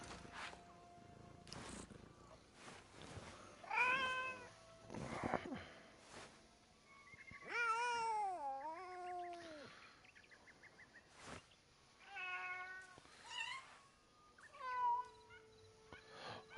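Black and white cat in the game Assassin's Creed Shadows gives several distinct meows with a purr-like rumble, spaced across the scene over a quiet ambient bed with faint bird calls.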